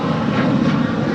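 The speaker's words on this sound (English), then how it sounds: "This is United Airlines 644 departing to Houston Intercontinental on a 737-900ER." United Airlines Boeing 737-900ER jet departing Los Angeles International Airport for Houston, a loud, steady broadband engine roar that stays constant and close throughout, with no voices.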